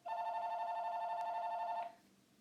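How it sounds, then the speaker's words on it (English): A telephone rings in one steady, sustained electronic tone lasting nearly two seconds, loud and close, then cuts off into faint room noise, with no talking. "Of course the phone had to ring, eh?"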